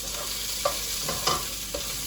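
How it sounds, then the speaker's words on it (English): Asparagus cooks in a pan with soy sauce and sesame oil, giving a steady soft sizzle with a few brief stirring scrapes and clatters, fairly faint and close, with no talking. "soy sauce and sesame oil on it, I want to let it cook for a little bit. I want to get the asparagus a little bit softer."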